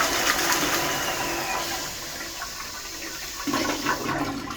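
A toilet flushes in a rushing, steady torrent of water that lasts throughout, with a fresh surge toward the end as it is flushed again after being cleared with a 6-foot toilet auger.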